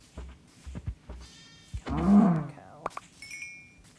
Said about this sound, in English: Cow.